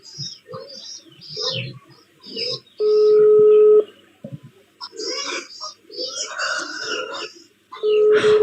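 Two sustained telephone dialing tones, one lasting about a second and a second one starting near the end, cut through casual Indonesian conversation among several people.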